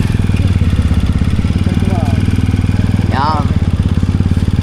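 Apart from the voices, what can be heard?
motorcycle with two front wheels passing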